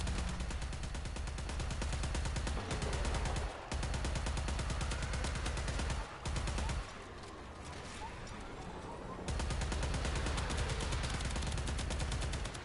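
Rapid automatic gunfire from air support in the shooter game Warframe rattles in a dense, continuous stream, loud and close, breaking off briefly a few times before resuming.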